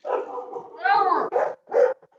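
Dogs bark and yip in several short bursts, close and fairly loud, with some whimpering between the barks.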